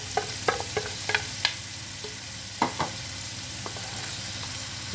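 Broccoli and cabbage go into a pan of onion over low heat for vegetarian sukiyaki noodles, a soft, steady sizzle broken by scattered clinks and scrapes of stirring.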